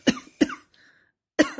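Coughing after a deep sniff of beer, three sharp close coughs, two quick ones then a pause and a third, with a faint breathy sound in the gap.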